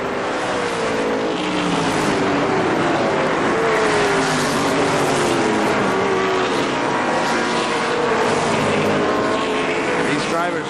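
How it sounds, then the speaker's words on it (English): ARCA SuperCars race cars lap the third-of-a-mile Kil-Kare Speedway oval, their engines a loud, continuous droning roar with rising and falling pitch throughout, and a voice faintly beneath. "they continue on motoring around this third of a mile oval, sort of oval, called Kil-Kare Speedway"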